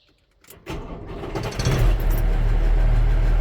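A vehicle engine cranks and catches, then revs with a little throttle and settles into a loud, steady low rumble close by.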